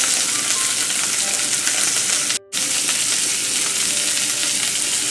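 Steaks sear loudly in a hot pan, a steady dense sizzle and crackle that fills the whole clip without a break except for one brief dropout near the middle; no voices.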